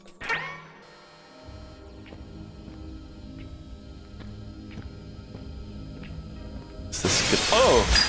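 Glass shatters in a video game: a loud, harsh crashing burst at the end, after a quiet stretch of low hum with faint, evenly spaced ticks and an earlier brief sharp clatter.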